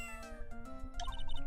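Shoo the cat meowing in Ace Attorney: Justice for All, a short synthesized game meow over steady background music with chiming tones, fairly quiet and alone without talk.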